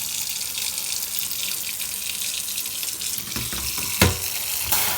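Running water from a sink tap rinses a soapy Sega SC-3000H computer case, a steady close hiss with sharper splashes and knocks toward the end.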